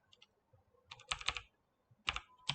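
Fingers type on a computer keyboard while entering a name into an Excel spreadsheet, with short clusters of crisp, close keystrokes separated by brief pauses.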